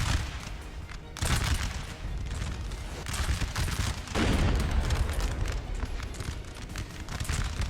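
Musket gunfire and battle noise from a Napoleon Total War fight at Salamanca, a loud continuous barrage of overlapping shots and rumble with swells in intensity.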